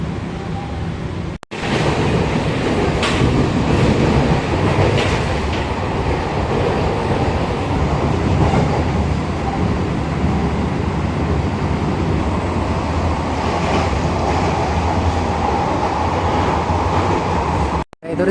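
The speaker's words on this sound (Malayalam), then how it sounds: "ഈ ലോക്കലിപ്പോൾ പോകുന്നത് ചെന്നൈ ബീച്ച് തൊട്ട്" A Chennai AC local train running from Beach toward Tambaram, with a steady loud rumble and rattle of the carriage in motion, faint voices underneath.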